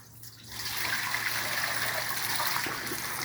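Water runs and trickles from leaking second-hand sink plumbing, starting quietly and then becoming a steady close splashing stream with no talk.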